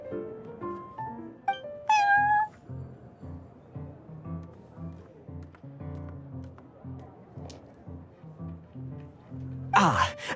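Prince the cat meowing in a video game inside the Cat's Tail tavern, two or three drawn-out meows rising over a steady background of bouncy game music, no talk.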